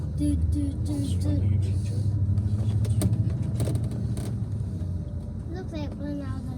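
A coach bus engine rumbles steadily at low pitch while the bus drives along, a constant close drone beneath people chatting and humming aboard.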